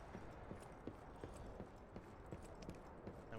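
Footsteps nearby in the game Lies of P: a quiet, regular series of light, hollow clopping steps at a walking pace, faint and steady throughout.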